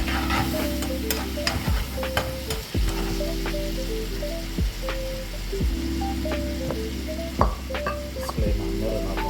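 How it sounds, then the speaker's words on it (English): A hot pan of beef stroganoff with wild mushrooms sizzles steadily as whiskey is added to deglaze it, with scraping and stirring, a few sharp utensil clinks against the pan, and no talk. "going to deglaze with some whiskey"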